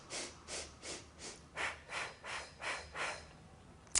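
Slow, even breathing during a beginner Pilates exercise, about eight soft breath cycles rising and falling in a steady rhythm, close and quiet, with no talking.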